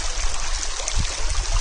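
A river runs steadily nearby with a broad, even rushing wash of water, loud and close, and a few low thumps toward the end.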